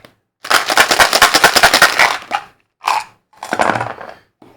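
Gunfire in the video game Jagad Peaks Cave Hero Quest: a loud rapid burst of shots, then two shorter separate bursts after brief pauses, close and with no talk over it.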